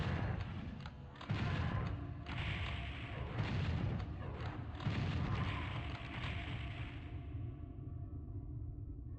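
Rocket blasts in Final Doom's TNT campaign thud out as a string of booming explosions, several heavy hits in succession with rumbling tails, ending in a fading roar.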